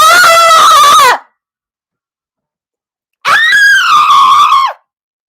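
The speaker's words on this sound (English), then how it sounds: "You don't fucking scream along with me." A person screams twice, loud and alone, with each drawn-out cry lasting over a second and separated by a long silence.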